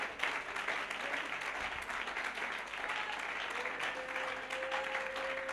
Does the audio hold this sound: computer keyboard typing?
no